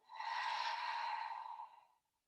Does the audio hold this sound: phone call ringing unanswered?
no